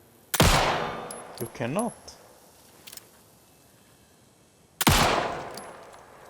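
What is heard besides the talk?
gunshots in the video game Alan Wake II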